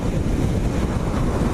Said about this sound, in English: it's feeding wind right into the bottom of the helmet, so that is where some of the noise is coming from